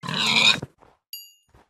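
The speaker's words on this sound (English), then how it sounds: "Pig." A Minecraft pig lets out a loud, close grunt lasting about half a second, then falls silent apart from a couple of faint soft blips and a brief high chime.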